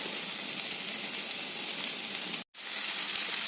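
Okra frying in a pan with salt and turmeric, giving a steady, close sizzling hiss that cuts out for a moment and then resumes, with no voices.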